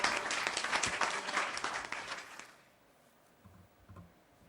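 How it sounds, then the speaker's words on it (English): A conference audience at a PR event claps in a dense burst for about two and a half seconds, then the clapping fades out, leaving a quiet room with a few faint low thumps. "a huge round of applause, guys"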